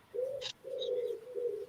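Three mellow cooing notes from a wood pigeon, moderately close and clear, with a short chirp between the first two.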